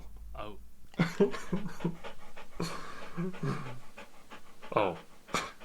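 Muffin the dog panting in quick breathy bursts close by, mixed with a person's voice speaking over and between the breaths.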